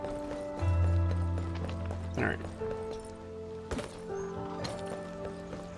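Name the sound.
character's footsteps in the video game Arknights Endfield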